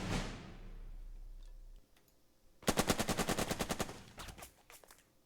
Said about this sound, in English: beating the crap out of them with the machine gun